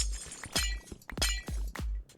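Structural glass blocks being broken in modded Minecraft, a rapid series of five or six bright shattering crashes, each a sharp burst with a falling tail, close and loud.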